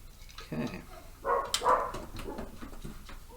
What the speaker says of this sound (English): Dogs barking upstairs.